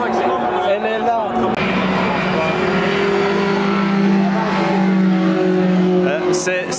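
A race car engine drones steadily on a warm-up lap, loud and sustained without sharp revs, while people talk over it.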